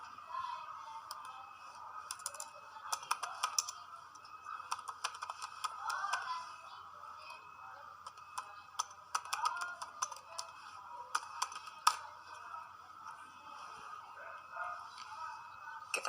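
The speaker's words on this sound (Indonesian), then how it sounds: "Kita ketikkan" Keys clack steadily on a computer keyboard while someone types JavaScript code, with quick irregular bursts of close, crisp clicks and brief pauses between runs.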